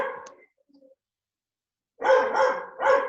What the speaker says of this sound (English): Why is your dog barking like that?